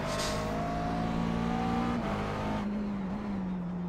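A McLaren MP4-12C GT3 race car engine in the iRacing simulator at Zandvoort, revving up loud and close with rising pitch and a quick upshift partway through, alone without talking.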